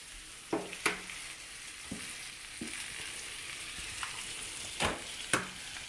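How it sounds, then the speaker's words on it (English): Eggs fry over medium in a hot pan with a continuous crackling sizzle. Sharper pops and spatters break through now and then. "And the eggs go in."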